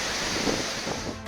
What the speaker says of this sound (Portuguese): o som da cachoeira vai dando a dimensão do que nos espera